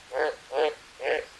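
A frog in the jungle survival game Green Hell gives three evenly spaced, resonant croaks, close and clear, with no other sound between them.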